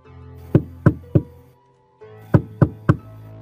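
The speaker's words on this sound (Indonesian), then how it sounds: "mereka pun kemudian mengetuk pintu rumah tersebut" Knuckles rap on a house door in two sets of three firm knocks separated by a short pause, close and distinct over quiet room tone.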